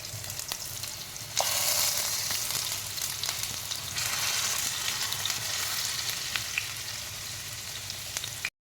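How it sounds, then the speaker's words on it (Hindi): Potatoes frying in about two tablespoons of oil in a pan beside roasting masala, a continuous close sizzle that jumps louder after the first second and stays steady with faint stirring scrapes. "मैं आलू बहुत थोड़े से 2 टेबलस्पून ऑयल में फ्राई करके इसमें आलू भी डाल दूँगी"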